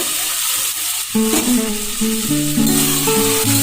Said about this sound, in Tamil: இஞ்சி பூண்டு பேஸ்ட்டு போட்டுடலாம் இப்போ வந்து ராஜ்மாவை போட்டுடலாங்க